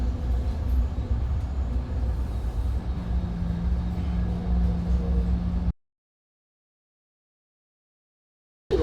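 MBTA commuter rail train arriving at Bridgewater station, a steady rumble with low hum and rattling car noise for about six seconds, then cutting abruptly to silence.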